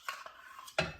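A spoon scooping pumpkin pie filling in a bowl: a couple of soft, close scrapes, then one louder clink of metal against the dish.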